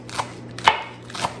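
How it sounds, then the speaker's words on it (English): A kitchen knife chops through rolled-up spinach leaves on a cutting board in three separate close, crisp knocks, spaced roughly half a second apart, with no talking. "the easiest way that I've found to chop it up is to kind of roll it and then just"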